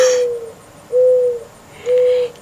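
Three loud, close owl hoots spaced evenly about a second apart, each a steady held note, with quiet background between calls.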